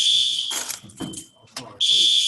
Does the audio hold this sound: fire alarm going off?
yes